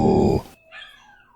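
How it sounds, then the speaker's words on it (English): Dogs give a short, loud, low growl lasting under half a second right beside the microphone, then a faint, thin whine trails off. "I think my dogs wanted to chime in."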